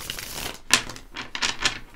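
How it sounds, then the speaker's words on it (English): Tarot cards get shuffled up close in quick, crisp bursts of riffling and flicking, a few separate rustling runs with no voice over them. "let's shuffle a few times"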